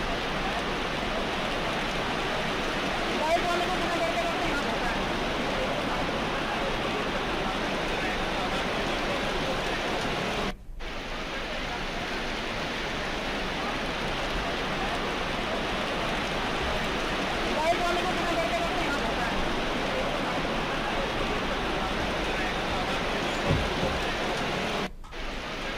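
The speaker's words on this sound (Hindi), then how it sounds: "भारी बारिश के चलते नदी नाले अपने उफान पर आ गए।" Swollen rivers and streams in Uttarakhand rushing after heavy rain, a steady dense roar of water that runs continuously, loud and close, with brief cuts in the middle and near the end.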